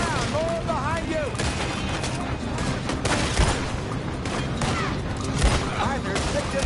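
Enemies open fire in a shooter video game, a dense fusillade of gunshots and booms crackling continuously, close and loud, with shouted voices mixed in over the battle.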